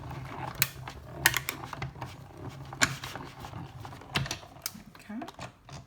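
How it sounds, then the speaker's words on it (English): A die cutting machine pressing through card for a handmade birthday shaker card gives off quick, uneven clicks and crunchy mechanical ticks in short bursts, fairly soft and close, with a quiet voice in the background. "Die cutting."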